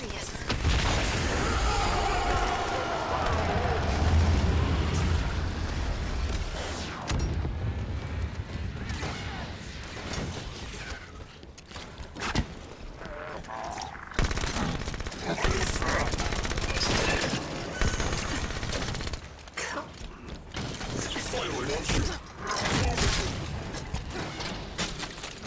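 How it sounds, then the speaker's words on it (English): Gunfire from a Halo 5: Guardians battle, dense bursts of shots, booms and rapid automatic fire running continuously and loud throughout, with heavier explosive hits early on. "I missed all those shots."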